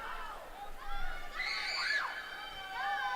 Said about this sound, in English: We're hearing some more screams